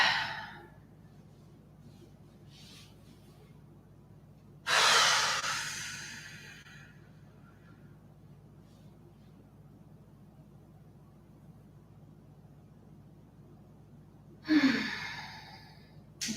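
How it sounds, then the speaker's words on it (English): Two deep breaths during a yoga session, each a loud, rushing exhale that fades slowly, spaced far apart against near silence. "Let's start by taking a few big deep breaths in through the nose and out through the mouth"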